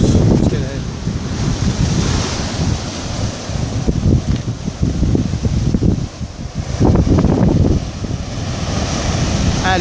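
Ocean waves washing onto a beach beside a harbour jetty at dusk, a loud continuous roar of surf with surges and rumbling buffets of wind on the microphone, no one speaking.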